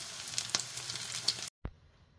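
Tortang dilis, a thin anchovy omelette, fries in a pan with a steady bright sizzle and scattered pops, close and fairly quiet. It breaks off abruptly, followed by a single thud and near silence.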